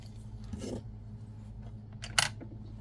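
Scissors snip through crochet yarn in two short, crisp cuts, one softer and one sharper, close up against a quiet background.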